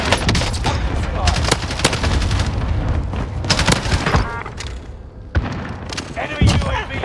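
Gunfire and explosive booms in Call of Duty: Warzone, with a no-recoil LAPA submachine gun, loud repeated bursts of shots and thuds under in-game radio voice callouts.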